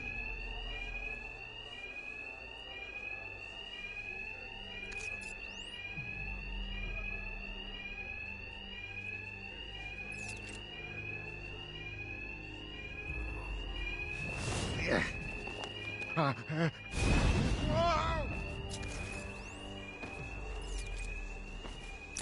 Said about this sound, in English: these thugs can't hear a thing over the alarms